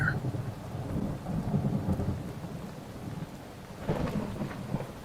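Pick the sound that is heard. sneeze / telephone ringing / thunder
thunder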